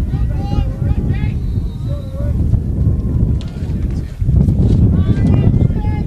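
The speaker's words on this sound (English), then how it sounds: "The world's biggest gust of wind comes through" A strong gust of wind buffets the microphone at an outdoor lacrosse field during an MCLA Division I national championship quarterfinal between Liberty and Chapman. It makes a heavy, low rumble that surges sharply partway through, while a commentator talks over it.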